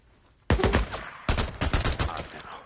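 Gunfire in the PS5/PS4 game Days Gone: a loud burst of several sharp shots, a short gap, then a rapid string of close, punchy reports.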